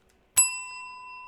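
A single bright bell ding plays as a sound effect on a live stream, striking sharply and then ringing out clean and sustained in the quiet, with no voices.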